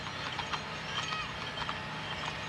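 Two horses clip-clopping along a street during the 1998 Christmas parade in Amelia, Ohio, with light irregular hoofbeats heard at a distance over steady outdoor crowd and street noise.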